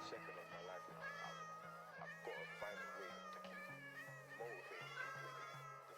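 Many Minecraft cats overrunning a village meow continuously in overlapping, high-pitched calls, a dense clamor of mews layered over a steady low musical tone.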